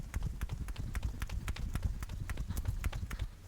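Rhythmic thudding of a 2-pound weighted jump rope, feet and rope striking the floor in a steady, fairly quick beat of close, loud impacts throughout.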